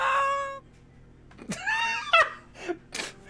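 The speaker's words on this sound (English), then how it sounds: "just got a perfectly cut scream in there" A female game character's voice samples from Elden Ring: a sustained pained cry, then a gap, then a rising scream followed by short grunts and gasps, loud and close, with no other talk.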